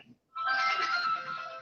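A phone rings loudly and close by, a steady tonal electronic ring with bright harmonics that starts after a brief pause and holds for over a second, with no talk over it.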